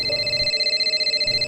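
A phone rings with an incoming call from Sara, a steady electronic ringtone with clear tonal pitches repeating in a quick warble, alone and fairly loud.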